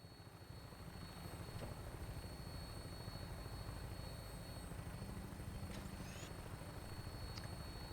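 A Vertibird aircraft in Fallout 4 flies on final approach, giving a steady low rotor drone with a constant hum that holds without a break. Faint high chirps sit above it, and nobody speaks.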